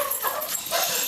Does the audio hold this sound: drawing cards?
no